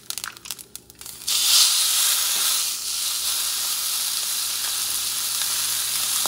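A bison or beef roast drops into hot sunflower oil in a pan and gives a sudden loud sizzle. The frying hiss stays steady and close after a few quieter clinks at the start.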